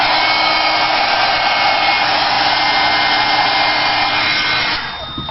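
A hair dryer blows hot air over wet paint on a pumpkin painting, a loud, steady whirring roar that runs unbroken and then drops in level as it is pulled away at the end.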